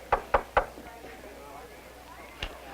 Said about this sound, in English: Who'd be knocking at the door of the teacher's lounge?